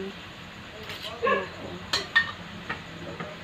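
A lid going onto a cooking pot of pork ribs gives a few close metallic clinks and clanks in an uneven sequence, over quiet kitchen background.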